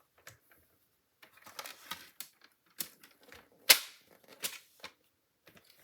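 Card stock paper is scored with a tool, giving scattered sharp clicks, taps and scrapes that come close by at an irregular pace, with one louder snap partway through. No one speaks.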